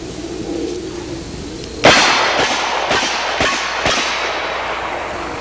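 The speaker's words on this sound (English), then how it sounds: "I was just talking about the difference in the light loads in this 44 I just shot" A .44 Magnum handgun fires light target loads outdoors, a sharp loud first shot followed by four more evenly spaced reports, each trailing off into steady background noise.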